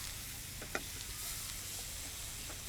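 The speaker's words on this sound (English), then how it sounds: "into the pan, thoda sa pani, and that's just gonna deglaze the pan nicely" Water hits a hot pan coated with spices and aromatics for a Mangalorean squid chilli fry, deglazing it with a steady, dense sizzling hiss that continues throughout, with no talking.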